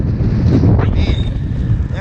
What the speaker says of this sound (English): that wind is fierce